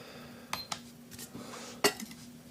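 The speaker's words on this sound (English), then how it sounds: "If we were to add the lid onto the Titan Kettle" A metal lid clinks onto an MSR Titan titanium kettle, a few sharp close metallic taps with one brighter clack near the end, over quiet room hum.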